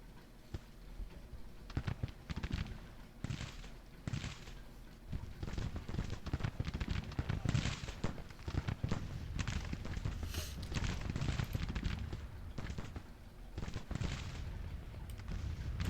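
Rolling musket volleys and crackling gunfire from Grand Tactician: Civil War, dense bursts repeating irregularly and filling the whole stretch at a steady, fairly loud level.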